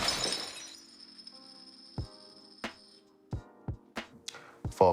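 A table gets smashed in an action scene in the Eternals trailer: an initial crash with a glassy shattering spray, then several sharp separate impacts at irregular intervals with ringing tails between them.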